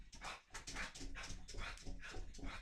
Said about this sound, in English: so the dog's gonna go crazy.